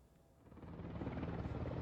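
A military helicopter carrying martial law troops to the National Assembly building produces a low, rumbling rotor drone that swells from faint to steady and fairly loud over a couple of seconds.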